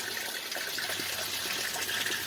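Aquaponics system water flowing steadily through a pipe into a solid separator and sump, a continuous close rushing gush with no pauses.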